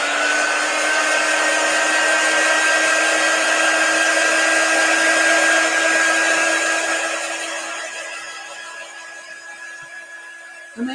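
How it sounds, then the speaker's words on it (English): Steady whining blow of a handheld drying tool aimed at a chalk transfer on a 9x12 board, loud and continuous with a high tonal hum, fading slightly before a click at the end. "And then I'm going to get my drying tool and I'm going to dry it."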